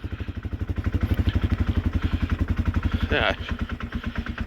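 A small engine idles with its choke on, a fast, even, thumping pulse close to the microphone, slightly uneven toward the end, while a person briefly speaks over it.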